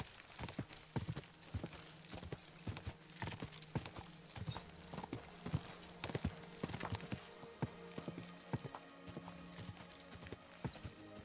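Horse hooves clip-clopping in a steady trotting rhythm during horseback riding in the Kingdom Come Deliverance II video game, continuous and fairly close over a low ambient bed, no talk.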